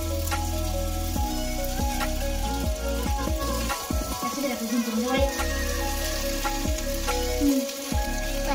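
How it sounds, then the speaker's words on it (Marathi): Sabudana vada patties sizzle on a nonstick pan with a soft, steady crackle. Occasional spatula scrapes and clinks come through while they turn, with no voice over the sound. "त्यामुळे असे फ्राय करायचे तव्यावरती किंवा पॅनवरती, नॉनस्टिक जे असेल त्याच्यावरती"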